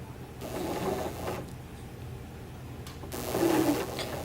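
A sewing machine runs a few stitches at a 2.5 stitch length while sewing a dart, giving a soft, steady mechanical whir at moderate volume that rises a little near the end, with no voices.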